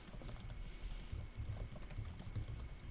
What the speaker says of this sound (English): the furious typing